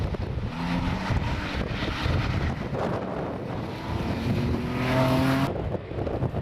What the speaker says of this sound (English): The Porsche 911 in the hands of Paul Mankin and Desmond Bell next on stage